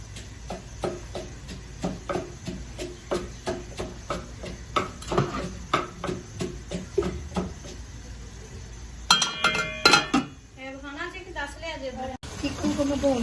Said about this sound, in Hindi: अब मैं ढक्कन दे रही हूँ।